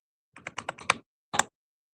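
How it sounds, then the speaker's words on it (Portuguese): A password being typed on a computer keyboard: a quick run of five or six close key taps, a short pause, then one firmer final keystroke, crisp and alone. "Vamos digitar a nossa senha."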